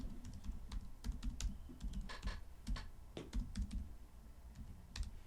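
Fingers type on a computer keyboard at close range, making quick, uneven bursts of clicking keystrokes with short pauses and no voices.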